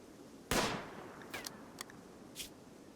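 Gunfire in RimWorld: one sharp nearby shot, then three smaller cracks spaced out across roughly two seconds, over a faint low background.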